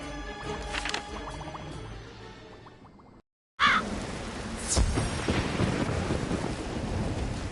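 Storm magic thunder effect in the Wizard101 video game: a rolling thunder rumble with rain-like hiss, broken by a brief silence, then a sharp crack and continued stormy roar, with background music tones.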